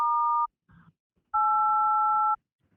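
A phone sounds a steady two-pitch electronic tone, one short burst then a longer one about a second, separated by a faint rustle, clean and close.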